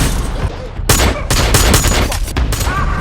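Rapid volleys of gunfire crackle through a tense film standoff as a marksman takes down armed robbers, loud bursts arriving in clustered shots over about three seconds.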